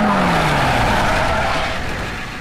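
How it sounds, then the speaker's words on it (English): A truck slides with a loud, close tire squeal in a film scene, the skid holding strong and then fading slightly as a falling engine tone drops away. "This was actually some pretty impressive driving because that's a hard truck to do a slide with."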